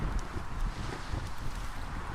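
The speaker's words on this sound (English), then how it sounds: "Gust of wind or something." A steady rush of wind sweeps across open water while a ship sails in the video game Atlas, broad and constant for a couple of seconds, with no voices.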